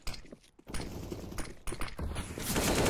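AK rifle fire rattles in a CS:GO match during a close defensive fight, dense bursts of automatic shots overlapping with clattering gear and footsteps, loud and busy throughout.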